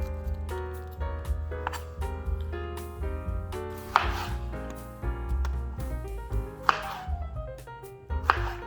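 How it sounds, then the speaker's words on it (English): A knife dicing a tomato on a cutting board, a quick series of irregular chopping taps and soft wet squishes, close and clear with no talking. "I'm just gonna dice up this tomato"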